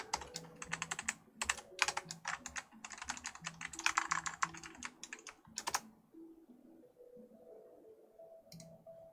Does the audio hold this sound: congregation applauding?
no